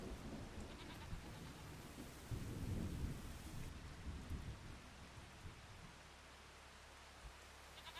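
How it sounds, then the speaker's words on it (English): Steady rain with rumbling thunder in a farming video game, a constant wash of rainfall with a louder thunder swell partway through, no voices. "In the rain."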